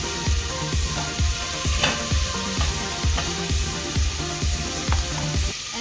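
Bacon frying in a pan for a creamy vegetable soup, a steady close sizzle with a rhythmic scraping of stirring repeating about once a second throughout, with no talking.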